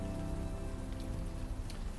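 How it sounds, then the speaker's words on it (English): Steady rain ambience from the Unavowed adventure game, a dense even hiss of drops falling on surfaces, constant and fairly close with no pauses, alone without any voices. "The rain is still maybe a little high"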